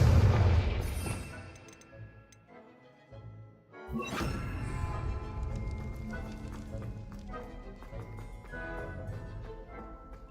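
Blasting-spell explosion in Hogwarts Legacy, a loud booming burst at the start that decays, then a second crash-like blast after a short gap, followed by busy game effects and music.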